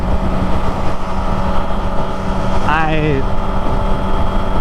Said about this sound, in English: Just checking in on my first ride back with the new bike.